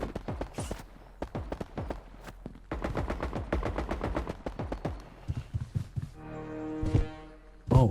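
Rapid bursts of video game gunfire crack in a fast irregular rhythm, with single shots and automatic strings separated by short pauses, ending in a tonal effect sound.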